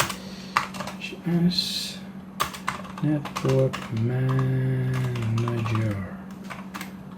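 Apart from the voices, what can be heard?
typing on a computer keyboard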